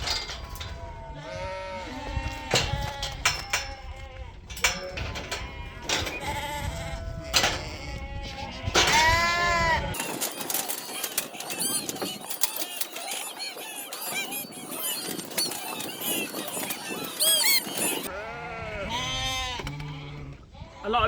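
Lambs bleat repeatedly on a sheep farm, many overlapping calls near and far, with a busier stretch of mixed flock noise in the middle before clear bleats return.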